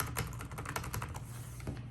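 Someone types on a computer keyboard for about two seconds, a quick run of light clicking keystrokes heard up close, fairly soft, and with no talking.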